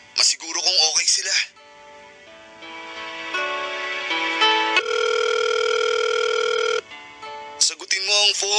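Phone ringback tone on an outgoing call, steady electronic tones repeating through the middle, with a voice talking briefly before and after.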